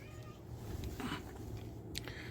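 A house cat meows briefly during a treat-and-catnip visit, a soft, fairly close call rising above a low, steady background murmur.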